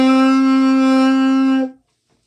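An alto saxophone holds a single sustained B flat, a clear, steady tone lasting about a second and a half before cutting off into silence.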